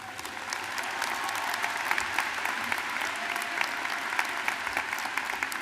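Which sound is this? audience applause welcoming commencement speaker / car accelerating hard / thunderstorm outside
audience applause welcoming commencement speaker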